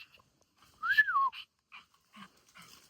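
A dog whimpers once in a high, rising and falling whine while being led inside to be put up, followed by a few faint shuffles and small noises nearby.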